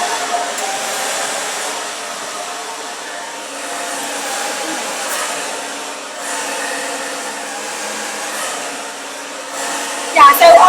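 A hair dryer blows steadily and loudly throughout, drying a client's hair during a styling session, with a brief louder burst near the end.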